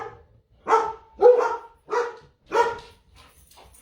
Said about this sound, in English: sorry, we have a dog emergency